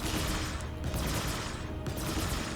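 Overclocked ship weapons in the Star Citizen video game firing as a dense, rapid stream of repeating shots, loud and continuous, with brief dips in the volley.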